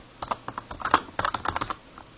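Quick bursts of typing on a computer keyboard, close and crisp, with keys tapped in uneven clusters and a brief pause between bursts, no speech.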